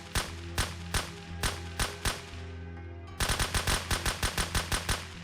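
Rapid automatic gunfire from the zombie survival game Surroundead cracks out in sharp bursts, a loose string of shots followed by a faster, evenly spaced volley, loud and close with ringing tails between them.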